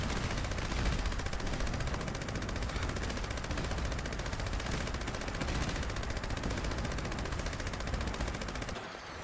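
Vampire's faster-fire-rate Gauss minigun blazing in Fallout 76, an unbroken rapid stream of loud gunfire with dense rattling shots held steady for about nine seconds before cutting off.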